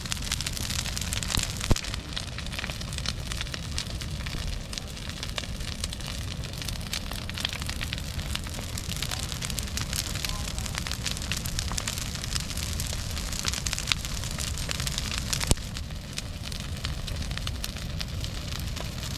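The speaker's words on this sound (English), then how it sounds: "Nothing like a big bonfire." A big outdoor bonfire crackles and hisses steadily at close range on a calm night, with a dense wash of pops and a few sharper snaps standing out, no voices.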